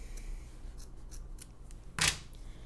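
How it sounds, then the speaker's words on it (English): A single quick snip of scissors trimming off a leftover tail of fabric at a stitched edge while sewing, close and crisp against a quiet room. "So I'm going to cut off this extra because I don't need it"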